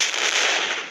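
A continuous loud blast of gunfire and explosion noise in the Indian Bikes game, a dense close roar lasting under a second.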